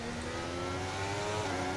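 An F1 car engine screams at high revs in the F1 23 racing game, set in Canada with DRS enabled and the car on soft tyres. The whine holds steady and close for the whole moment, with no talk over it.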